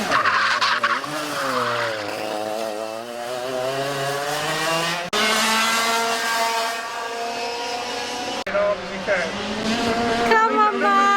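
A racing car or kart lapping a race track at a track day, its engine revving up and down through gears and corners in long rising and falling sweeps, with tire noise and people talking nearby throughout.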